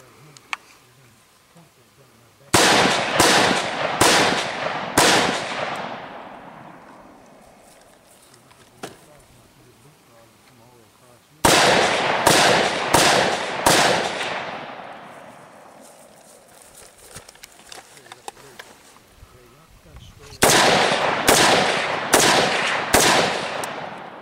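AR15 / M4 rifle gunfire in three sharp bursts of rapid, loud shots, each volley followed by a long ringing decay, with quiet gaps between.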